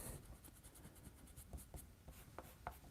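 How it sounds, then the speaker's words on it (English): Rapid, soft scrubbing strokes of a Prismacolor plastic eraser rubbing pencil guidelines off paper, close and quiet, in a steady back-and-forth rhythm with a few sharper taps near the end. "I'm going to erase all these pencil lines now."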